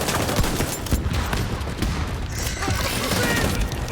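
A heavy gunner in The Division fires his gun nonstop, a loud dense barrage of rapid shots with booming impacts, close and continuous.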